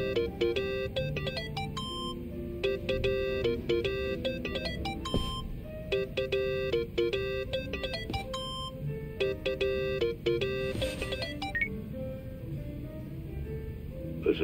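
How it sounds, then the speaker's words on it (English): A mobile phone rings in Yakuza: Like a Dragon, playing a bright repeating electronic melody in regular bursts with short gaps, loud and alone, over a low game background. "Think that's your phone, man."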